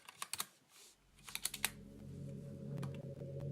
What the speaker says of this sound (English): you can hear how loud my keyboard is